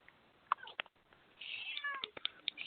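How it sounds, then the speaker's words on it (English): Pet cat yowling for food, several insistent meows in quick succession growing into a longer drawn-out cry, close and fairly clear over quiet background. "my cat just started yelling at me for food"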